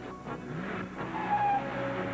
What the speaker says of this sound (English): That's the twin-cam, 6-cylinder fuel-injected engine talking.